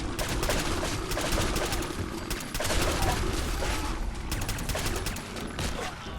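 Rapid bursts of Deliverer pistol fire in the game Fallout 4 crack out steadily and loudly, shot after shot packed into a dense fusillade that barely pauses across the whole stretch.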